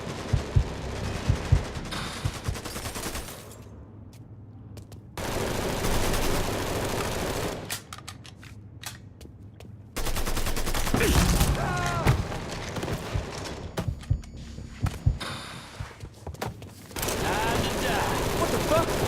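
Gunfire in Mafia III, with long bursts of rapid automatic fire and heavy booming shots in loud dense volleys separated by brief lulls, and voices talking now and then between them.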